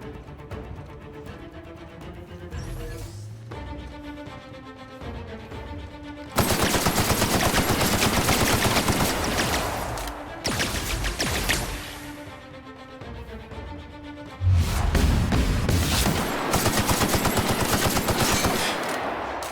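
Gunfire in The Outer Worlds video game, with sustained loud automatic bursts that start and stop in long stretches over a backdrop of game music and effects.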